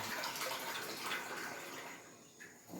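Tap water runs steadily into a sink or vessel while chowmein is being prepared at home, a continuous close splashing stream that eases slightly toward the end.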